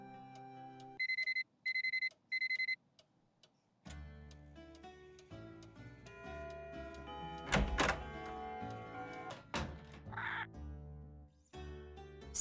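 Alarm clock rings inside the Nancy Drew game Curse of Blackmoor Manor: three short, loud, evenly spaced electronic bursts at the start, then game music and scattered thuds and clicks take over.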